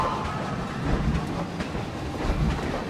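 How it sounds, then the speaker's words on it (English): A coaster train in the video game Planet Coaster rumbles past with rhythmic clickety-clack of wheels over the track, steady and moderately loud, with no talking. "just as the train's going past"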